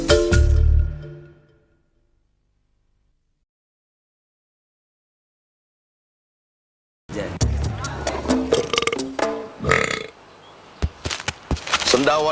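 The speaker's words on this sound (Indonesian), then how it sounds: "Sendawa dan perut kembung, perhatiin dong." A single deep, loud burp opens a stomach-remedy commercial for Promag, followed by several seconds of silence before voices and music begin.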